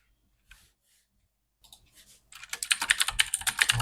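A computer keyboard clicks as a six-digit code is entered: a few isolated taps after silence, then a dense run of rapid, crisp keystrokes close up.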